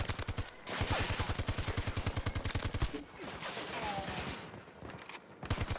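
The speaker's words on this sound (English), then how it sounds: "this gun is just like a full auto beast. You just hold the trigger down." Rapid full-auto gunfire from a gun in Battlefield 2042, a dense, steady stream of shots in long sustained bursts with a brief pause midway, loud and close.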